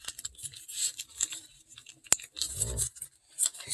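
Crisp, sparse crackles and rustles of paper being folded into an origami shamrock, with short scattered bursts and one sharp crease snap amid quiet gaps.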